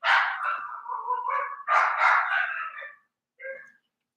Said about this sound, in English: Is one of the dogs, his name's Bruno, he's highly sensitive.